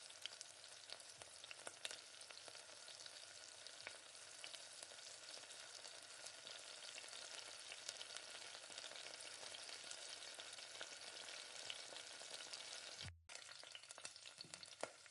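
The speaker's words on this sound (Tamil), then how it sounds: "அது மாதிரி எல்லா சிக்கனையும் நல்லா அந்த மாதிரி பொரிச்சு எடுத்துக்கலாம்" Chicken 65 pieces deep-frying in hot oil, a steady, dense sizzle and crackle that runs continuously and fairly close, with a brief interruption near the end and no talking.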